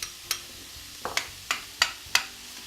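Onions and celery softening in a hot pan, with a faint low sizzle beneath a series of sharp clicks and taps from stirring, about six distinct knocks over a couple of seconds.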